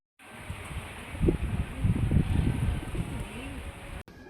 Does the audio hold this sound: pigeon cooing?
yes